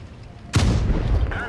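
An American tank cannon fires once in World of Tanks Blitz, a single loud, sudden boom that rolls into a rumbling tail under the low engine hum of the game.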